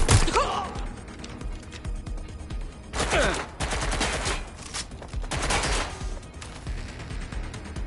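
Bursts of gunfire in Watch Dogs: Legion, rapid automatic volleys and sharp cracks coming in clustered waves over a steady background din, loud and close.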